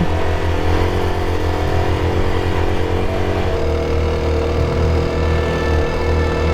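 A motorcycle engine laboring hard through desert sand, loud and close, with a steady strained drone that shifts pitch as the revs change partway through.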